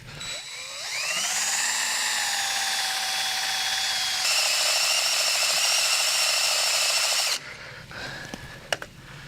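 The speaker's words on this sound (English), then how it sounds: "Let's drill into this piece of iron and see how it drills." A drill bit boring into a piece of grey cast iron, a loud steady whine with a strong tonal pitch that rises on start-up, then runs continuously for several seconds before cutting off, followed by faint clatter.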